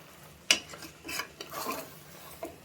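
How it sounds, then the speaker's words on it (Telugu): Spoon stirring mutton curry in a pan with fresh mint and coriander added, Telangana-style thick gravy: a sharp scrape-clink at the start, then soft intermittent scraping and shuffling strokes, fairly quiet and close, no voices. "ఇంకా పుదీనా, కొత్తిమీర వేసి కూడా బాగా కలపండి."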